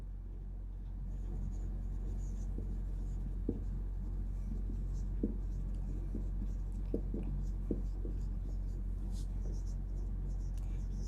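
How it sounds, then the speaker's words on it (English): A hand writes out a definition, with steady scratchy pen strokes and small taps over a constant low hum, close and moderately loud. "Now we will write the definition here."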